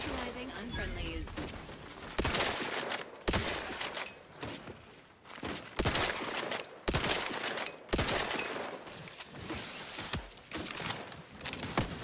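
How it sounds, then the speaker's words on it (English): Rifle gunfire in the video game Outer Worlds 2: repeated loud, sharp shots in irregular bursts across the clip, with a low, busy game soundscape beneath and no talk over them. "Let's try the rifle on them"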